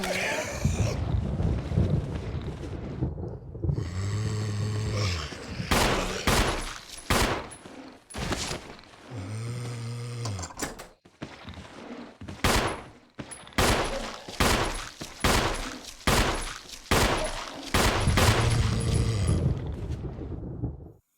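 Repeated pistol shots fired in Resident Evil 1, loud sharp reports coming in bursts and single cracks across the stretch, with some low rumbling hits and game sounds between them.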